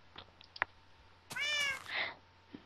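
A cat in the Minecraft video game gives a clear, drawn-out meow followed by a shorter second meow, with small clicks and light game noises around them.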